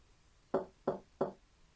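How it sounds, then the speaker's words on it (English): Three evenly spaced knocks at a door in the video game Piofiore: Fated Memories, crisp and close in a quiet room. "As usual, I heard a knocking at my door."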